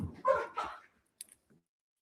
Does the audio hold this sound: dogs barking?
yes